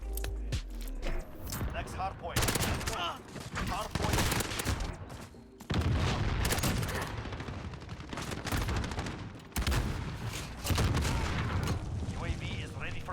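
Rapid MP7 submachine gun fire in Call of Duty Modern Warfare comes in long, dense bursts, loud and close, broken by short pauses between volleys, with game sounds mixed in.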